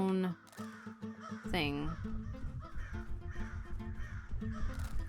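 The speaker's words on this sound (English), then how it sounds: "The crows." Crows caw repeatedly in the video game When the Crow Sings, harsh and close, over steady game music while a person talks.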